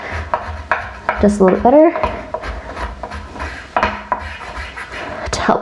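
A brush scrubs a toilet bowl sprinkled with Comet cleaning powder, giving irregular scratchy strokes and rubs at close range, with a voice speaking briefly between the strokes.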